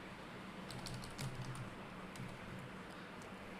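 Quiet, quick typing of a password on a computer keyboard while an FTP user is set up on a TrueNAS server, with keys clicking in rapid irregular bursts and no talk.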